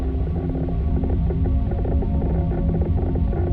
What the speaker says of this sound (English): That's just radiation noises.